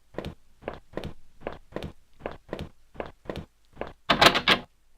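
In a video game, a door is worked with a run of about a dozen evenly spaced hollow knocks and thuds, ending in a louder rattling burst, with no talk over it.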